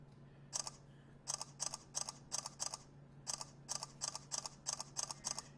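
A Galaxy Nexus phone fires off rapid camera shutter clicks in quick bursts, crisp electronic snaps in uneven clusters over a low steady hum, close and distinct.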